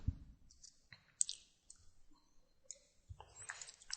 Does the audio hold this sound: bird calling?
no